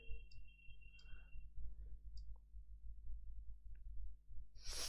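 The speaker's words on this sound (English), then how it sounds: "I'll click over this." Several faint, sharp mouse clicks spaced irregularly against a low steady hum, close and quiet.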